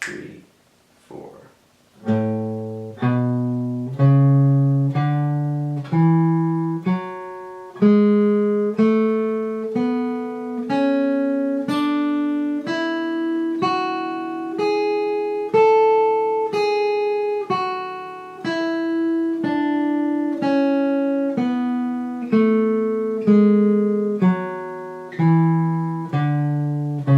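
Guitar plays a CAGED scale shape one plucked note at a time in even quarter notes, climbing steadily and then descending, each note ringing clearly on its own with no talking.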